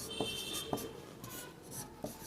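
Pen scratching across paper as answers to a reasoning question are written out by hand, a steady soft rasp with a few firmer strokes, close and alone.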